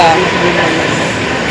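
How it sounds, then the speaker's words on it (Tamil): A train rolls through Panvel station, the last stop on the line, with a steady close rumble of rail noise filling the moment. "இதுதான் அந்த ட்ரெயின் போகுது."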